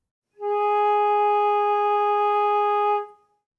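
A lone flute holds a steady G sharp in the first octave, a pure, soft, low-register tone sustained for over two seconds before fading.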